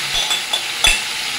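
Spice paste fries in hot oil with a constant bright sizzle, broken by a few light scrapes and taps as it is stirred in the pan, close by and with no voices.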